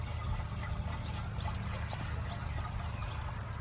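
Water poured into a crop sprayer tank, a continuous close trickle and splash over a low steady hum, with no talking.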